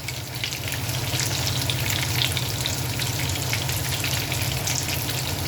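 Breaded pork chops fry steadily in hot fat, a dense, even sizzle with fine crackling that stays loud and continuous throughout, with no voices.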